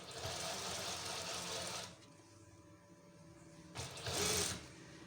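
A sewing machine runs fast and steady while stitching the armhole seam of a waistcoat, stops for a couple of seconds, then whirs again in a short, louder burst.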